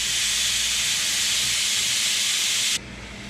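Loud, steady steam hiss rises off catfish simmering with juices and spices in a pan, a dense unbroken rush that drops abruptly to a quieter hiss near the end.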